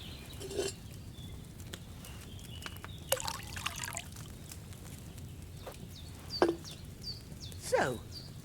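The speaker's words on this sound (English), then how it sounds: "Don't worry, I poured wine in there." Wine poured into a cauldron in Kingdom Come Deliverance 2, heard as intermittent splashing and trickling liquid in short bursts over a low background rumble.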